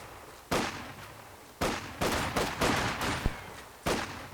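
Gunfire pops from a World War II strategy game skirmish between Volksgrenadiers in cover and Soviet conscripts in a building, scattered bursts spaced irregularly over a low battlefield rumble.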